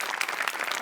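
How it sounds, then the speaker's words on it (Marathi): A studio audience at a Marathi comedy show breaks into a short, dense burst of clapping that runs steadily and alone for under a second. "तुझ्यासाठी स्पेशल टाळ्या"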